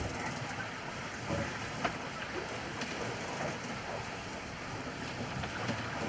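A sailboat under way in rough seas on a passage toward the Bahamas behind a cold front, with steady wind and water rushing past the hull and wind buffeting the microphone throughout.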